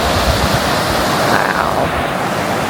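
Ocean waves wash steadily onto Driftwood Beach on Jekyll Island, Georgia, a loud continuous roar of surf close by with wind buffeting the microphone.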